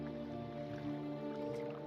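Swimming through water in the video game Morrowind, soft sloshing and dripping strokes over a faint steady tonal drone.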